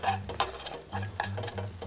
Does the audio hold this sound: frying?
yes